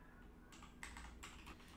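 Quiet bursts of typing on a computer keyboard, short clusters of key clicks with brief pauses, heard close and soft.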